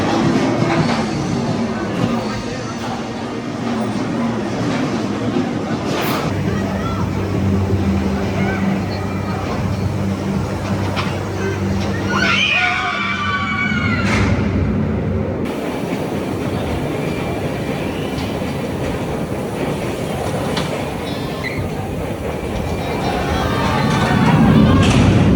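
Riders on Oblivion, the B&M dive roller coaster at Alton Towers, with a steady rumbling train roar and clattering track noise throughout, rising toward the end, with a voice mixed into the ride noise.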